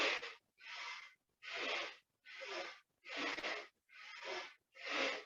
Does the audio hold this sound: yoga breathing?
yes